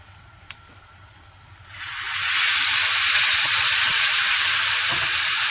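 Chicken pieces drop into a hot pan and a loud, broad sizzle bursts up after a quiet start, then holds steady and close, with no talk over it.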